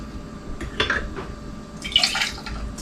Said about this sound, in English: I'm just going to ladle some of this out into my cup here. Just a little cup of ice.